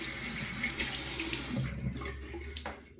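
Tap water runs steadily into a sink while makeup is rinsed out, a close continuous hiss and splash with slight changes as hands move under the stream.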